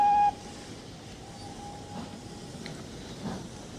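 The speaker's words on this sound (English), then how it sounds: "The train's about to leave, Inspector" A train pulls out of a station with a brief whistle tone at the start, then a low rumbling roll and faint creaks and clanks as it gets moving.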